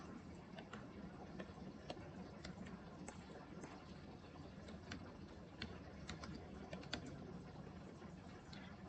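Steady, faint clicking of keys on a computer keyboard as HTML code is typed, a quick irregular patter over a hissy room background.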